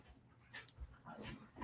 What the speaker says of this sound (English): So I've got 3 dogs running back and forth right in front of me.